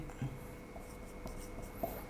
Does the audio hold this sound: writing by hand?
yes